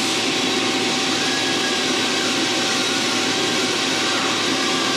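A machine in a fabrication shop runs a new program, producing a loud, steady broadband whir and hum with faint tonal whine, continuous with no voices.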